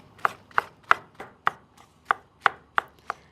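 Mushrooms being chopped with a knife on a cutting board, about ten sharp, evenly spaced chops close by, with quiet gaps between them and no voices.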